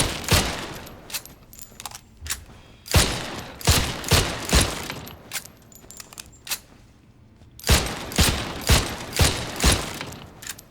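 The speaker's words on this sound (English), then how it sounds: "Naturally, it's what you expect out of a pistol. Single shot." Pistol in the video game Killer Inn firing single shots in quick clusters: sharp, loud, close reports in runs of three to six, with brief pauses between bursts.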